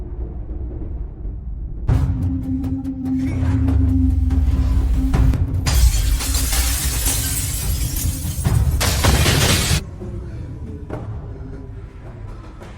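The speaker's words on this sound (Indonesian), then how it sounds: "Dia berusaha untuk memecahkan jendela kaca yang sangat kuat." Thick, very strong glass window in an upstairs room smashed in a loud, sustained crash of breaking and shattering glass lasting several seconds, then fading into a quieter rumble. No voices.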